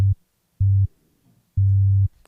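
A very basic synth bass line holding a single G note, played as three separate sustained low tones with gaps between them, dry and prominent with nothing else around it.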